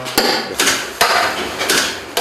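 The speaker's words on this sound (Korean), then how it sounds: "망치로 끌어올린 부분을 평평하게 정리를 해줍니다" A hammer flattens a pulled-out patch of steel car body panel with sharp, ringing metallic blows at an irregular pace, about five strikes, loud and close, with no talking.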